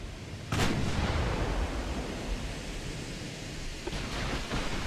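Guns of the warship USS Long Beach firing in the naval video game Ultimate Admiral: Dreadnoughts, a heavy boom followed by a dense, continuous roar of cannon fire and rumbling, with another muffled blast near the end.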